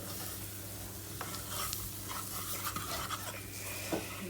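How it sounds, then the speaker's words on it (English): Whole spices for a chicken and chickpea curry toasting in a nearly dry pan, stirred with steady scraping strokes over a faint continuous sizzle, close and fairly quiet with no talk. "what we're doing here is just giving the spices a little toasting"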